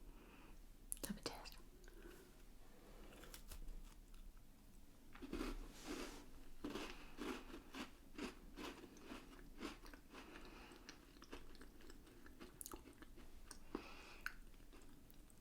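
Close, quiet crunching and chewing of a Michigan windmill cookie, with crisp bites and irregular mouth sounds spread over the stretch, interspersed with soft whispered speech.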